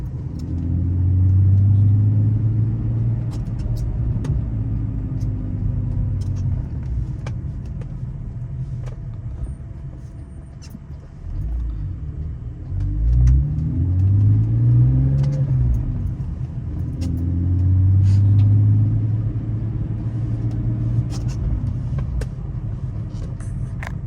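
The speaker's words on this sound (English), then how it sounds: "here's the car in motion. I'll go through the gears here." A 2003 BMW 330ci engine pulls through the gears while driving, its low rumble rising in pitch with each acceleration, then dropping at shifts, steady and close from the cabin with road noise underneath.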